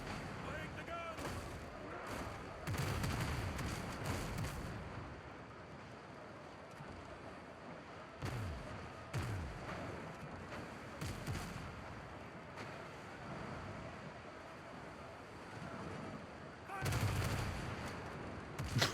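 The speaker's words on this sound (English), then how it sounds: "I just got like 2 broadsides back to back." Repeated cannon broadsides from a sailing ship in Windrose, a string of heavy booming shots in clusters across the clip, close and loud over wind and water noise, with occasional talking.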